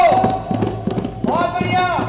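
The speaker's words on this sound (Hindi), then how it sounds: "अरे घोड़ा तेज में भगाओ" Clip-clop of a horse's hooves during a staged play about Rani Avanti Bai, a quick rhythmic run of hoofbeats under a loud voice calling out, with a brief whinny-like tone.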